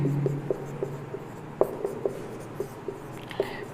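Chalk taps and scratches on a board during a chemistry lecture, a steady run of light strokes and clicks over faint room hum with no speech.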